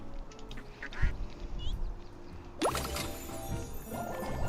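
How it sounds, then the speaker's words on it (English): Several small cartoon ducks quack in Little Kitty Big City, short nasal calls over a busy game soundscape of music and ambience, moderately loud, with a louder effect cutting in partway. "It's 4 different little ducks."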